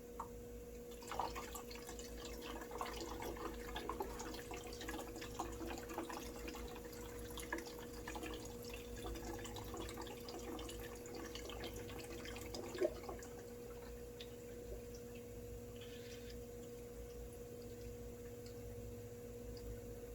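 Distilled water trickling through a funnel into a custom EVGA water-cooled gaming PC loop, a faint steady dripping and gurgling over a low constant hum, with no voices.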